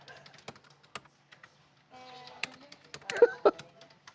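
Rapid typing on a computer keyboard clatters in short irregular bursts of key taps, fairly close, with people talking and reacting over the clicking.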